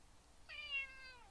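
A single clear meow from a cat named Kernigan sitting at a window asking for attention, one drawn-out, slightly falling cry, close and alone against a quiet background.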